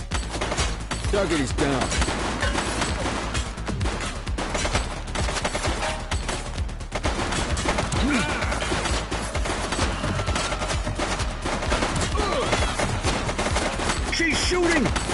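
Gunfire in The Precinct police video game: dense, sustained bursts of shots and rapid automatic fire run loud through the whole stretch, with a voice calling out over the shooting and game sirens and effects underneath.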